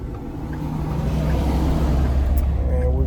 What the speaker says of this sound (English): So I'm pulling up into the gas station right now.